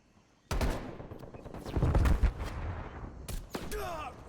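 Sniper rifle gunfire in a shooter video game, a few sharp, loud cracks with ringing tails, the first one striking suddenly after a quiet start, followed by more shots and clatter.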